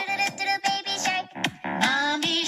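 A bright, bouncy tune blares from a Facebook camera filter, loud and close, with chirpy melody and rhythmic beats filling the short stretch.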